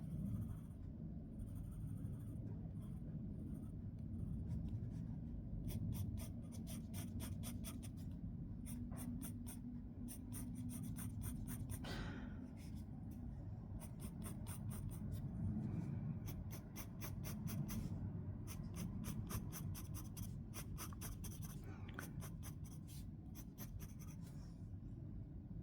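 A pen or pencil scratches steadily across paper while 3D cubes are drawn, with bursts of short strokes and longer lines repeating close-up over a low background hum, with no talking.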